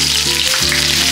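Green chilies crackle and sizzle in hot oil in a pan, a steady loud frying hiss with a brief dip midway before resuming.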